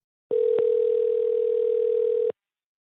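A steady telephone dial tone plays while a radio show host calls a listener, a single clean pitch holding for about two seconds with a brief click near the start, then cutting off to silence.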